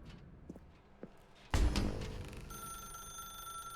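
A telephone rings in the video game The Stanley Parable: a few soft taps and a thud, then a sharp burst of sound and a steady electronic ring tone holding to the end.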